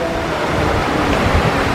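River waves heard from a pirogue on the Congo, a continuous rushing wash of water with a low buffeting of wind on the microphone, loud and close with no voices.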